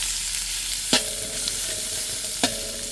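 Pork fat dropped into hot cooking oil, a steady soft sizzle with a couple of sharp stirring clatters, close and fairly loud, no talking.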